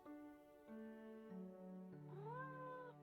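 Cat meowing in the video game Nancy Drew: Mystery of the Seven Keys, a few drawn-out, close, clear meows flowing one into the next, the last rising in pitch.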